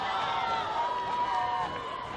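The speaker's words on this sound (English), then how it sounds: "A great crowd here this cold December evening." A packed high school football crowd in the bleachers on a mild December evening, Ansonia against New London, a broad murmuring roar with a commentator talking over it.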